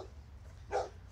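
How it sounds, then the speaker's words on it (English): A dog barks once from some distance along an urban trail, a short burst standing out faintly against steady low outdoor rumble. "that dog just starts barking and barking and barking"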